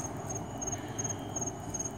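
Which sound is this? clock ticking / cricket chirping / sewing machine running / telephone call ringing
cricket chirping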